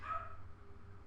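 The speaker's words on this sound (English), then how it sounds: "My mom's dog just barked." A single short bark from a pet dog in a room at home, brief and fairly faint, fading quickly over a steady low background hum with no voices.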